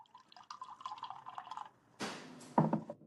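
Liquid drips and trickles into a glass in light, irregular spurts, followed by a brief splashy pour, all faint and close with no voices.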